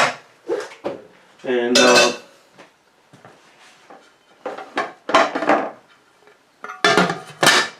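A metal pot of banana rum mash being covered, with loud clanging and scraping of the lid against the rim in several distinct bursts, close by, and someone saying a word between them.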